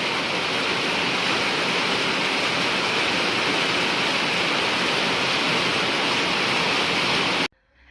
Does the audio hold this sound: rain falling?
yes